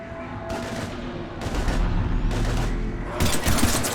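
Heavy gunfire in the video game Mass Effect 3 during a combat scene: loud, dense bursts of rapid shots and booms that come in waves over about four seconds.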